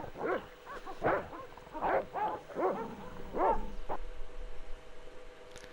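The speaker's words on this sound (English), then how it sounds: "I need to get in there, but there's dogs." Dogs barking in the Broken Sword: Shadow of the Templars Reforged video game, a run of several moderate barks and yips at a steady pace with a faint ambient backdrop.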